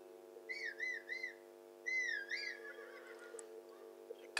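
Horse whinnying in Zelda Tears of the Kingdom: several high, wavering neighs come in bursts over a steady low game hum, fading into softer calls.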